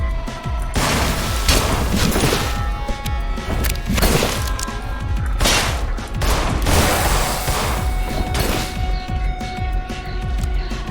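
Gunshots in In Sound Mind, a string of loud, heavy booming blasts spaced a second or two apart over dense, continuous game noise, close and forceful throughout.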